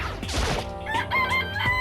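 A cartoonish chicken in a video game clucks and crows, a close, lively run of squawks and a drawn-out rooster call heard alone without talk.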